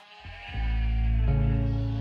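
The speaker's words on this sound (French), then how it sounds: "Alors la brebis corse, en général, elle est robuste." A robust Corsican ewe on a farm gives one long, loud, wavering bleat, starting with a brief rising onset and holding strongly to the end, close and alone.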